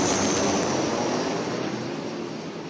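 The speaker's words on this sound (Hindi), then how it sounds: "इंडियन एयरफोर्स के सुखोई और फ्रांस का लड़ाकू विमान राफेल साथ साथ उड़ान भर रहे हैं" A Rafale and a Sukhoi fighter jet fly together during a joint India–France exercise in Jodhpur, making a loud, broad roar that slowly fades as they pass.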